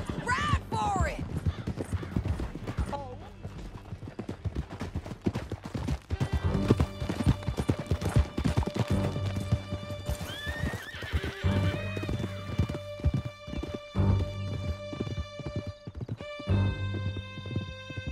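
Galloping horses in Red Dead Redemption 2 hammer out a rapid, steady clip-clop of hooves for the whole stretch, close and prominent, mixed with sustained musical tones and occasional whinnies.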